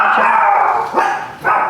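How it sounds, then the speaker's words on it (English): A pet dog barks three times in quick succession, loud and close, indoors in a home kitchen; each bark is full and throaty with a short gap between them. "Oh, my dog thinks that somebody's knocking at the door because I just slammed this down."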